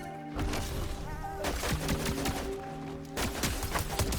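Gunfire in Fortnite Chapter 7, rapid bursts of shots in clustered volleys with brief pauses between them, punchy and close with no talk over it.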